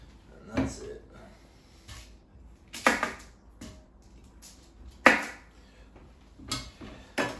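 A kitchen knife chops the ends off squash and zucchini on a board, giving several sharp separate knocks spaced a second or two apart, moderately close, with quiet handling sounds between them.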